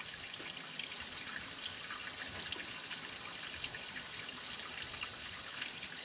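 Water running steadily out of a hydrant while air is bled from the lines, a soft, even rushing hiss with slight splashing, fairly faint and continuous, with no one talking.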